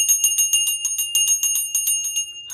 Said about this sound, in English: I'm going to ring the bell just to clear the energy